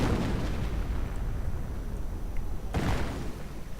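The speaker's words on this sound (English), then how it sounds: "Artillery raining in on the German forward position here at this small roadside house, taking several howitzer shots" Howitzer artillery shells landing on a German forward position at a small roadside house in a World War II strategy game: a continuous, loud rumbling barrage of blasts with a sharper burst near the end, no voices.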